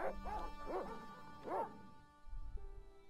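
Several dogs bark in the Broken Sword video game, with three or four arched, yelping barks spaced through the first half, then a quieter stretch with a faint tone, under a low background hum.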